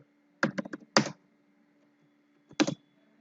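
Keystrokes on a computer keyboard while C code is entered: a quick cluster of four or five clicks, a firmer double tap, a pause, then one last pair of strokes, close and clear over a faint steady hum.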